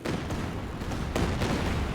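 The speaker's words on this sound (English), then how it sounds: "We have another Werfen barrage." Werfer rocket artillery barrage in Company of Heroes 2, a dense wash of booming impacts and crackling blasts in the distance, continuous and loud with no talk.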